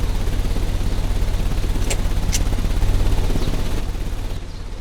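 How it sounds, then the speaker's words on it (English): Engine running in the Sherlock Holmes Crimes and Punishments video game, a loud, steady mechanical chugging with rhythmic pulses, joined by a couple of brief sharp clanks partway through. "The engine has started."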